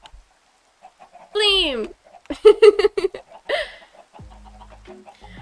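Minecraft chickens give a few short clucks in a survival game world, mixed in with a person talking and laughing over them.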